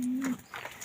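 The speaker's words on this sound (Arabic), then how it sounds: "انا بربي حمام سايب اهو، حمام سايب" Free-flying domestic pigeons of large breeds such as King and Romani coo softly, a low steady hum followed by faint murmuring coos, all within under a second and with no talking.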